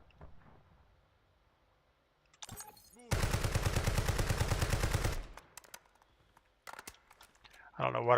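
Call of Duty Warzone gunfire: a loud sustained burst of automatic fire lasting about two seconds, preceded and followed by a few sharp single shots and clicks, with quiet stretches between.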